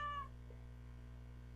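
A cat named Mittens in a video game gives a single short, faint meow at the very start, over a low steady background hum.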